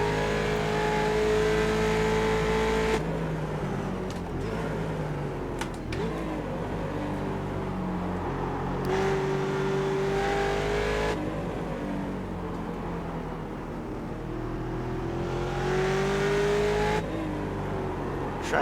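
Ford Mustang race car in the iRacing sim at Mid-Ohio, its engine droning steadily with rising pitch sweeps as it gets on the throttle out of a corner, loud and continuous with no talking.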